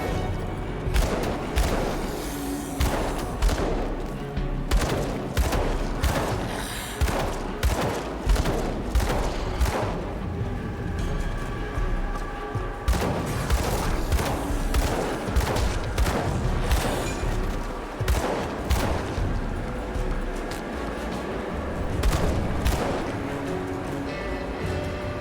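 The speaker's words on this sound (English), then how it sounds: "this gun is not very powerful, but still it's surprisingly useful" A gun firing repeatedly in Grim Dawn, evenly spaced sharp shots in quick bursts with short pauses, over a game soundscape.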